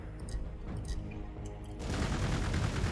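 Rapid gunfire rattles in Warhammer 40,000: Gladius as units open up on a Fortress of Redemption, a dense burst of shots that swells loud and continuous in the second half over low rumbling game sound.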